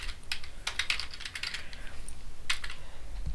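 Quick bursts of keystrokes on a computer keyboard while a topic is entered into a library database search, starting as a flurry of taps, pausing, then resuming briefly, close and fairly quiet.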